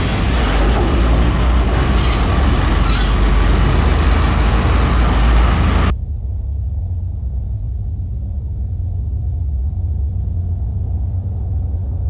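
A train in the video game Max Payne rolls along with loud rumbling, clattering wheels and squealing metal for about six seconds, then the noise cuts off abruptly and only a low steady hum remains.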